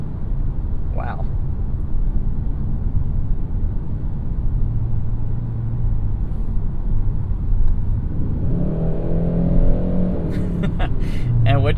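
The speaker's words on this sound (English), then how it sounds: "what you saw right there is the 8-speed dual clutch transmission at work" A 2021 Hyundai Sonata N-Line with an 8-speed dual clutch transmission, heard from inside as a steady low engine and road rumble that swells into a rising engine note near the end, with no speech.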